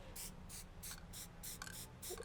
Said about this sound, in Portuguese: E o spray ele já está mais longe. Eu já faço essa pressão bem mais curtinha